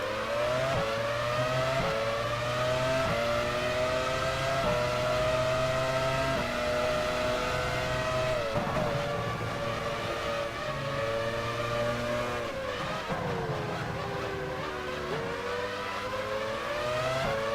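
Simulated 1999 Formula One car engine from F1 Challenge 99-02 at the French Grand Prix, a loud, continuous high-pitched whine that holds steady, dips briefly as the throttle lifts, then climbs again, with no talking.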